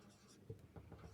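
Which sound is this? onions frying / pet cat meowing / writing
writing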